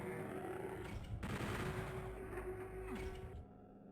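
Gunfire in the video game DOOM 64, a dense run of shots and blasts layered over game music and ambience, with one sharp burst near the middle.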